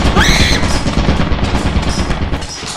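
Rapid bursts of automatic turret gunfire in the video game Lethal Company rattle loudly and continuously, with a sharp rising electronic whine at the start.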